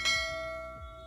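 A single bright notification bell chime for a subscribe bell icon, struck once with a clear ringing tone that decays slowly over about a second, close and alone.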